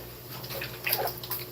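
City water runs from a tap in a Philippine bathroom, a soft, continuous splashing with small drips and trickles, close and moderately quiet.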